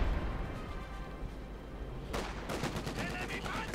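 Howitzer artillery in Company of Heroes 2 pounds away during a 1v1 battle, with a rumbling war-game backdrop giving way to a dense run of heavy, rapid blasts in the second half.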